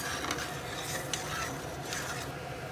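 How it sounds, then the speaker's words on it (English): Metal spatula scraping browned bits off the bottom of a pan with a red wine reduction for a pan-roasted duck breast, a continuous gritty rasping stir over a steady simmering hiss. "run your metal spatula or something around the bottom"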